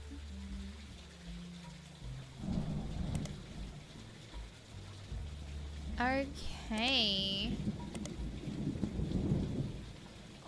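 A thunderstorm in a 1990s detective video game: steady rain hiss with low rolling thunder rumbles throughout, while a voice briefly speaks partway through.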